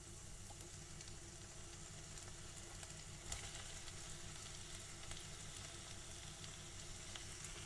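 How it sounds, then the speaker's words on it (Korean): Onions fry in melted butter in a hot pan, giving a soft, continuous sizzle with faint crackles and no speech. "버터가 녹으면은 제일 먼저 양파를 넣습니다"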